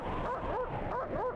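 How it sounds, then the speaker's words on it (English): Dog in the video game Men in Black: The Game giving a rapid series of yipping, whimpering barks with rising and falling pitch, loud and close over steady game background noise. "the dog is my favorite part of this game so far"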